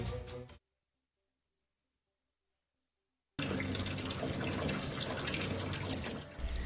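Water pours steadily from the broken tap of a neglected water cooler at the Marwahi health centre in Pendra district, a loud continuous splashing stream that follows a brief sound and several seconds of silence.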